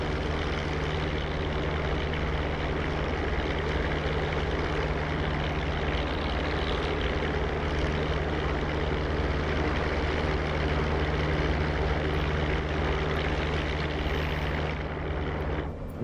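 Propeller engine of a P-47 Thunderbolt fighter in the DCS flight simulator, droning loud and steady through a takeoff run with a constant low hum and broadband roar, no voices.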